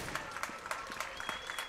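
A crowd at a CS:GO grand final between Virtus.pro and TSM claps steadily, with scattered individual claps standing out over a soft, moderate-level murmur.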